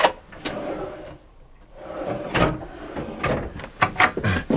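Kitchen drawers with soft-close runners in a Mercedes Sprinter 4x4 camper van are worked several times, giving a series of close, muffled slides and soft thuds spread irregularly through the stretch, with no talking.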